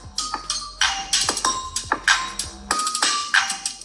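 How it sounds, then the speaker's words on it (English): A OnePlus 9 Pro plays a tone through its top and bottom speakers. Bright, bell-like chimes come in repeated bursts with short gaps, clear and close, with no talk. "let's test out those speakers. One on the bottom, on the top here as well."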